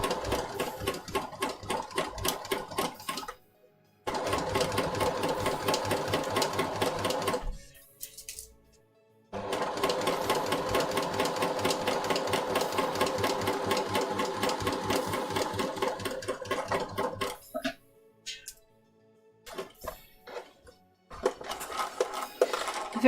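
A sewing machine top stitching a dart runs in long rapid bursts of even needle clatter, stopping briefly between runs with short pauses and a few small clicks, close and steady.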